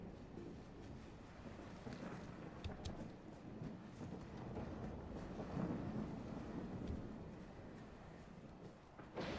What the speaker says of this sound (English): Walking out in the middle of a storm, am I? With lightning coming down and everything around me?